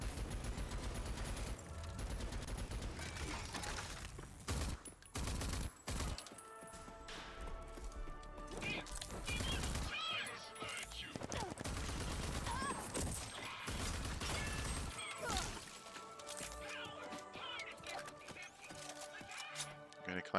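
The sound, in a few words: gunfire from the video game Rage 2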